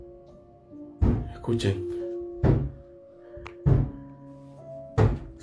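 Four or five heavy, hollow thumps, like footsteps or bangs on a floor at night, fall at irregular intervals a second or so apart over a faint steady hum; one person speaks briefly.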